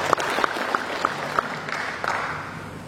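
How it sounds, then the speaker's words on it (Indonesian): A crowd at a regional government meeting in Papua Barat claps together, a dense, moderately loud wash of applause that slowly fades, with a few sharper electronic beeps near the start. "mari kita beri aplaus"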